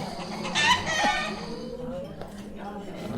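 Chickens cluck and squawk in an excited, panicky burst near the start, with shrill calls and a crow-like cry, then fade into scattered softer clucks.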